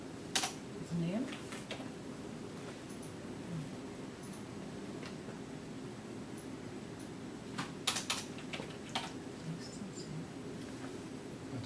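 Light, irregular clicks from a computer keyboard as a sample name is typed into HPTLC analysis software, close and quiet over a steady room hum, with brief pauses between bursts of keystrokes.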